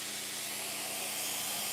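Steady broadband hiss of an espresso machine's steam wand, a heat-exchange or dual-boiler home unit, running continuously and fairly loud throughout with no voices.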